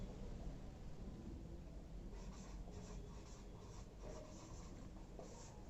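Chalk or marker scratching across a classroom board in steady strokes, close and continuous over a constant background hiss.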